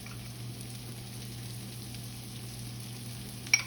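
Mushrooms and shallot sauteing in butter in a pan over a high flame, a steady soft sizzle running throughout with a brief sharp clink near the end.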